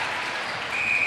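A crowd at a Nations Cup match between Papua New Guinea and Malaysia applauds and cheers in a brief, steady wash of clapping, with no individual voices standing out.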